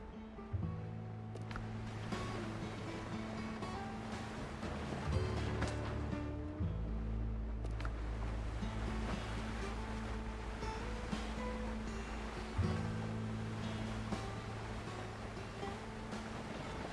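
Sailing ship cutting across ocean waves in the Windrose game, a steady broad wash of surf and water under a layered sustained musical drone, continuous and fairly loud throughout with no speech.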